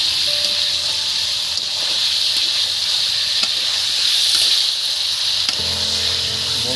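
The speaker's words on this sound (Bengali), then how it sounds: "দেখছেন যত চিকেনটা নাড়ছি, চিকেনটা পুড়ি একদম দেখছেন সাদা সাদা টাইপের হয়ে যাচ্ছে।" Boneless chicken for pepper chicken sizzles loudly in a pan, a steady bright hiss of frying with faint scraping taps as it is stirred, and no voice over it.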